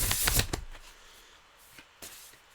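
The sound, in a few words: shuffling an oracle card deck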